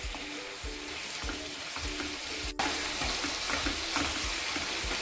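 Chicken fries in a pan with a steady, close sizzle and crackle, broken by occasional soft stirring knocks and one brief sharp click midway.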